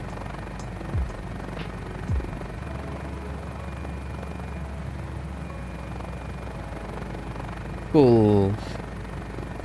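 A GotFriends Mini-500 light helicopter in a flight simulator idles with a steady low rotor and engine drone, a brief rising whine near the end, and a voice speaking briefly.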